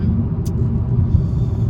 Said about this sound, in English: yeah, so we're driving now